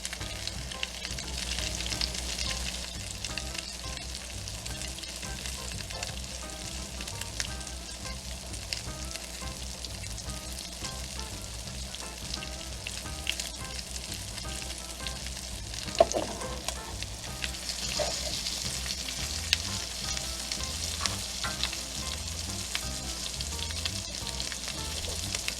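Monte Cristo sandwich with Gouda, New Orleans French style, frying in a pan, giving a steady low sizzle that runs throughout. One brief louder scrape comes partway through as it is flipped.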